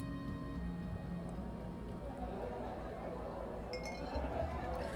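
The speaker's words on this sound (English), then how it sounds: "As the evening goes on, more people filter into the pub, and my pint glass is continuously filled" Pint glasses clink in a busy pub, a few light chimes over a low murmur of crowd chatter and a soft steady background hum.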